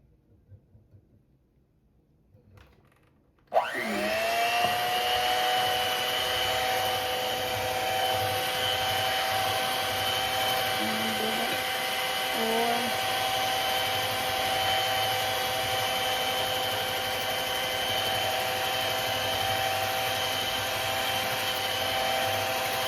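Electric hand mixer switching on abruptly and whirring steadily while beating date cake batter, a loud, sustained motor drone close by with slight fluctuations as the beaters work.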